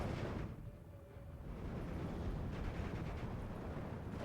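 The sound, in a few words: 280mm off-map artillery strike in Steel Division 2 video game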